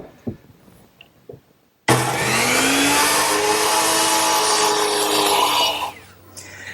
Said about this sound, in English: And I'll do that over here on my miter box.